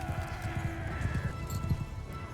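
Horse hooves clip-clop in Mount & Blade II: Bannerlord, a quick irregular run of soft thudding steps at moderate distance with a brief whinny-like tone, heard alone without speech.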